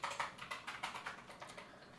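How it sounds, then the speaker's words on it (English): Rapid, uneven keystrokes clatter on a computer keyboard, close and fairly quiet, about a dozen taps in quick succession with no voices. "I'm gonna try just manually typing it in."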